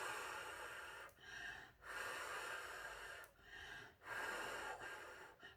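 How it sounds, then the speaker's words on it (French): Slow, steady breaths drawn and blown out in a calm guided-breathing rhythm, several long airy exhalations separated by brief pauses, close and soft with no talking. "Après avoir fait ça, vous soufflez."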